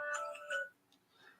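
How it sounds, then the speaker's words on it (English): A short two-note mobile phone ringtone chimes brightly, then a softer electronic tone follows, faint and brief. "I can't get my phone to shut up."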